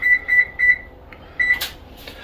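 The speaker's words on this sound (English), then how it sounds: "I'm gonna set the oven to bake at 400 degrees" Three quick electronic beeps from an oven control panel being set to bake at 400 degrees, then one more beep after a short pause, close and clear with a faint clatter.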